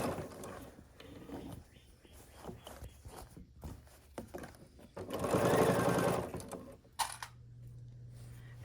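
A Bernina sewing machine stitches through thick duffle bag fabric in quick, rattling bursts, with a louder sustained run in the middle of the stretch, close up and with no talking.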